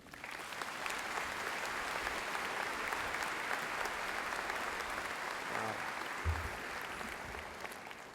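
Sustained applause from a university commencement crowd at Kent State welcoming a speaker, steady and dense for the whole stretch with no voices over it.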